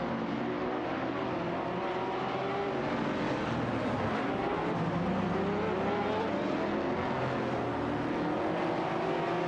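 Engines of an Ascari KZ1 and an Aston Martin DBR9 roar together in a close video-game race, a dense, steady high-revving drone with shifting pitch that stays loud and continuous throughout.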